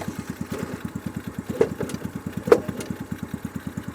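Small single-cylinder engine of a mini Jeep chugging across a field with a fast, even putter, close and steady, with a couple of louder knocks or bumps along the way.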